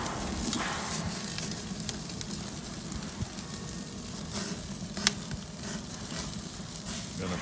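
Pork rib roast sizzles on a grill, a faint, steady crackling hiss with scattered small pops and no talking.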